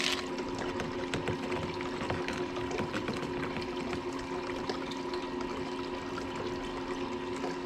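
Water flowing at a low setting through a gold sluice, a continuous close rushing and trickling with a steady pump-like hum beneath.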